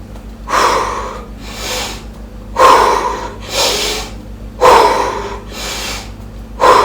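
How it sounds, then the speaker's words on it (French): Deep, deliberate breathing alternates slow, full inhales and long, airy exhales, each breath loud and close with short pauses between them. "prendre des grandes inspirations Et vraiment, des grandes expirations aussi"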